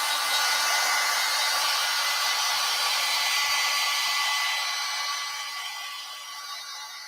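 A hair dryer blows heat steadily across a watercolor painting of garden flowers, a loud continuous whooshing roar that holds level, then eases slightly lower toward the end, with no talking.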